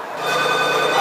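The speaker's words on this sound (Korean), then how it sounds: "그때 울리는 전화벨 소리." A telephone bell rings in a loud, close, sustained tonal burst that swells in over the first moment and holds steady, with no talk.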